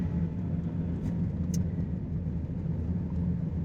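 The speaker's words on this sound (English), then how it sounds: "driving the Perodua Myvi." A Perodua Myvi with a five-speed manual gearbox is being driven, heard from inside as a steady low engine and road rumble at moderate loudness with a faint tick or two, and no talking.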